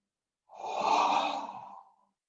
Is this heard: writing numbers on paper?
no